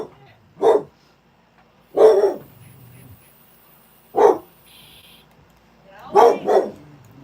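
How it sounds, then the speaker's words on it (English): A dog barks in short separate bursts, about five loud barks spread out with pauses between them, and a double bark near the end, with faint low background sound in the gaps. "He's just gonna bark at you."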